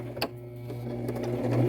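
A domestic sewing machine runs steadily, stitching over elastic on a fabric bandana headband, its motor hum and needle chatter continuous and close, with a brief sharper click near the start and no talking.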